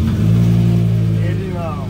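A V10-swapped BMW E21 runs loud and close right after starting, a deep rumbling drone that eases off toward the end, with a voice audible over it.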